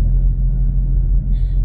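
Steady low rumble of heavy road traffic, many cars moving through BF Homes, a continuous engine drone close by with a faint higher tone near the end.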